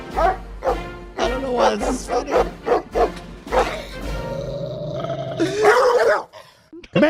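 A dog named Commander growls and barks in a played recording, with rough snarls and sharp barks close up, then a long low growl. People talk and laugh over parts of it.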